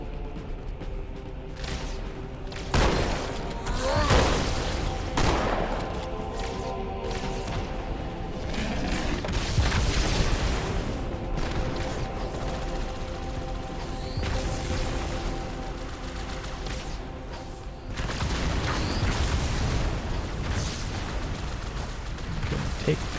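Repeated grenade blasts and bursts of gunfire pound against a tank in a Master Chief game battle, loud and dense throughout with crashing impacts and mechanical clatter, a voice talking over parts of the action.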